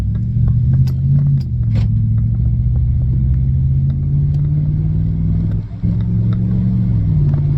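A car cruising at 40 miles an hour, a loud steady engine and road rumble with a constant low drone, a brief dip near the end and faint rattling over the top.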